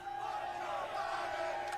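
A crowd chants in a dense, continuous roar at a fairly faint, distant level, with no clear individual voices standing out.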